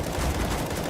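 A short, loud burst of rifle fire tears through a wall in a CS:GO match, dense overlapping shots filling the whole second.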